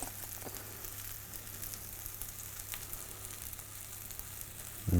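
Mushrooms dipped and coated in sweet chili sauce sizzle in a pan, a steady, moderate frying hiss that runs throughout and is joined by a louder burst near the end as more pieces go down.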